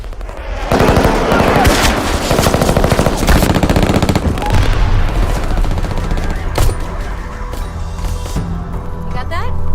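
Sustained automatic gunfire from a sergeant's gun, loud dense bursts rattling continuously for most of the stretch before thinning into scattered shots near the end, alone without talk.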